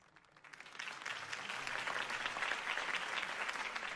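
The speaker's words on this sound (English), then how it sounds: "could have heard that applause" Applause from a crowd in Batman: The Telltale Series swells after a brief quieter start, then holds as a dense, steady wash of clapping.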